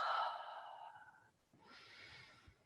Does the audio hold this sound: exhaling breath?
yes